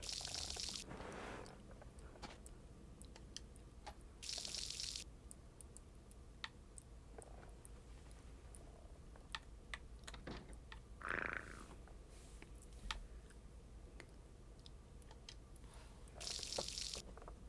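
Watery trickling and splashing from the Harvest Moon video game, coming in soft recurring bursts with faint ticking between them, all at a low, steady level.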